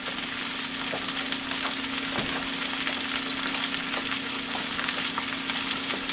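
Onions cooking in a pan on a stovetop, a soft continuous sizzle with faint occasional clicks and a low steady hum underneath, no one speaking.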